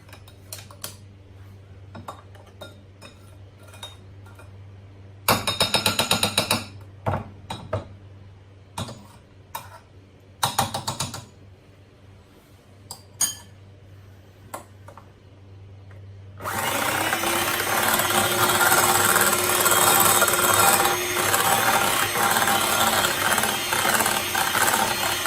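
Butter being beaten in a bowl for cake rusk batter: a few light clinks and taps, then a loud, steady whirring drone that runs without a break to the end.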